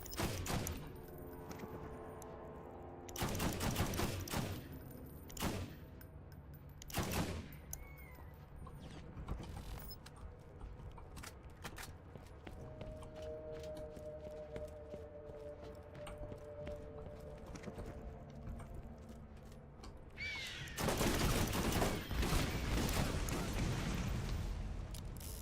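Gunfire in the video game Borderlands comes as loud bursts of rapid shots, a few early and a longer barrage near the end, set against a low, steady mechanical game background.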